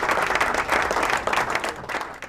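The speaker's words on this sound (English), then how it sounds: "Round of applause" Audience applause at a podcast taping with a big crowd, dense sustained clapping rising and falling in waves for a couple of seconds, fairly loud and close.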